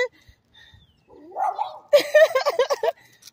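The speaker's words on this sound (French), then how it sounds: "c'est les petits chiens là qui aboient plus que les gros" Small dogs yapping in a few quick, fairly close barks, starting after a quieter stretch and then bunched together with dense harmonic yips.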